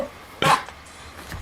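A single dog bark, short and fairly close, stands out loudly once against a quiet room, followed by faint low noises.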